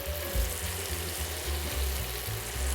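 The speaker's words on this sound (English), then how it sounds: "Amanda has the rest of the asparagus cooking on the stove" Asparagus cooks in a pan on a stovetop, filling the air with a steady, broad sizzle that is loud and continuous and has no talking over it.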